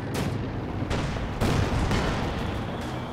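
A bundle grenade goes off in a tank-battle video game, dense booming blasts and gunfire stacked over a steady roar of battle noise, with no voices on top.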